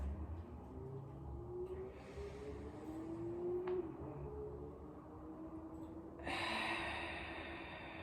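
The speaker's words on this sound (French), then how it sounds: "Et on expire." During a relaxing Pilates and stretching session, a soft breath out drifts over a low steady background, ending in a louder airy exhalation near the finish.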